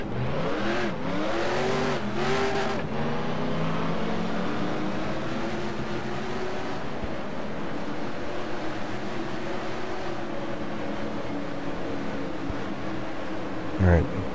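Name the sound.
stock car engine in NASCAR Racing 2003 video game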